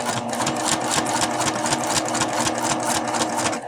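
Home sewing machine stitching down an edge over velcro hooks, a continuous fast rhythmic clatter and motor hum, close and steady throughout without a break.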